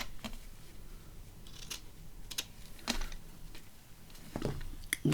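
Scissors snip through lace trim for a journal project, several short crisp cuts spaced irregularly, close and quiet, with faint handling rustles between them.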